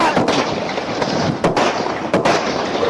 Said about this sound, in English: Still shooting, man.